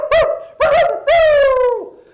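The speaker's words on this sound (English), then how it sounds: "When questioned, Pompeo's dog had this to say" A dog gives three short, tonal yelps or barks, the last one longer and drawn out into a whining howl, close and clear with silence between.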